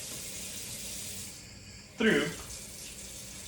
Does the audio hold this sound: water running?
yes